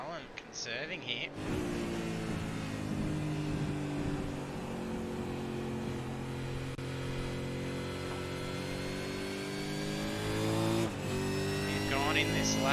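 A Supercars race car engine in iRacing at Phillip Island, driven gently to conserve fuel: a steady droning tone with shifting pitch, lifting and revving near the end, heard under ongoing commentary.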